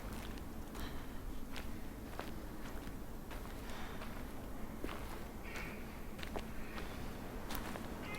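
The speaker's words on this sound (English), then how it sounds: "footstep from the troll" Occasional heavy footsteps from a troll thump at irregular intervals in the video game House by the Lake, sitting over a constant murky ambient bed.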